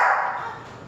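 A driven dog running an at-home training drill lets out a single loud, sharp bark that trails off quickly.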